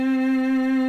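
A single sustained violin C note, bowed with the third finger placed right beside the second, steady and clear for about a second with no talking.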